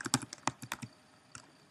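Quick bursts of clicky keystrokes on a computer keyboard, about ten sharp taps in a fast run, a pause, then a couple of isolated presses, close and clear with no talking.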